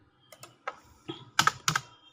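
Several separate clicks of laptop keys being typed, quiet and close, in small irregular bursts with short pauses between, no voice present.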